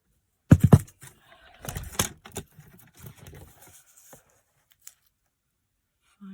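Scissors cut Old Olive cardstock in a few crisp snips, loudest near the start, then lighter slicing and handling rustles that thin out into near silence.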